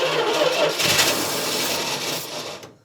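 The engine of a 1968 Dodge D200 truck, short on fuel, cranks over with a rapid rhythmic churning from the starter, loud and close, then winds down and cuts out near the end without catching.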